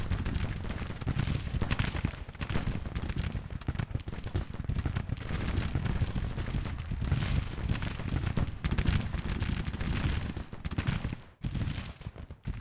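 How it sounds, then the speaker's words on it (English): Dense, continuous battle din of massed rifle volleys and booming artillery from a Civil War strategy game, loud and sustained throughout with only a brief dip near the end. "these guys are now coming under fire from many,"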